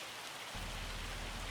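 Steady, dense rain and hail pour down in the farming game Farming Simulator 25, a loud constant hiss that thickens after the first half second and continues unbroken, with no talking.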